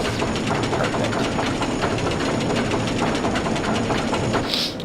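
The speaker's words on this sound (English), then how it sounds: "that's why there is a fan in the background" A fan runs in the background at a rollercoaster setting as a loud, steady broadband whir with a faint rhythmic mechanical ticking, continuous for about five seconds with no voices.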